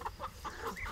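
A farm chicken clucking on a sustainable rural property, several short, soft clucks in quick irregular succession close by.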